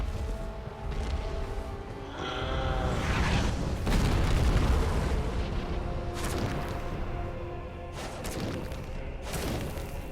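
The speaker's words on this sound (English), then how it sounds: "Slam your fist down." A heavy boss fist slam in Dark Souls lands as a deep, booming thud over a dense battle soundscape, with several further impacts following amid a voice.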